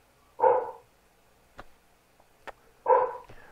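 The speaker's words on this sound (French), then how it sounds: "ton chien a de l'air d'accord" A dog gives two short, moderately loud barks about two and a half seconds apart in a quiet room, with a few faint clicks between them.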